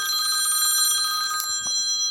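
A phone rings with steady, bright electronic tones that hold for about a second and a half, then cut off, followed by a faint click and a low thump. No one talks.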